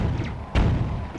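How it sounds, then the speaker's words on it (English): A boat-mounted cannon fires once in The Legend of Zelda: The Wind Waker, a single deep thud near the middle of the clip over a steady rumbling game background, with no one talking. "I'm going to make use of my cannon"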